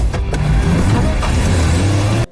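Several car engines roar loudly and close as a street race starts, with rising revs and shifting engine tones over two seconds.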